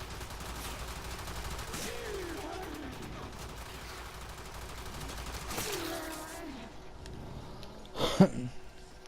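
Gunfire from corrupted heavy gunners in the video game Warframe, a steady crackle of shots with a louder burst near the end, mixed under game sounds and a talking voice.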